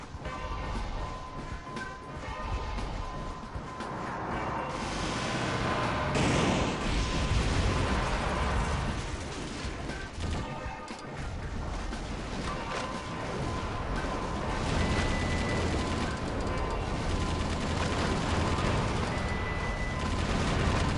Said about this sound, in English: trying to shoot down the missiles